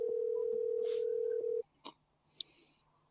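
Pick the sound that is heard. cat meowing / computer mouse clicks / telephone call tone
telephone call tone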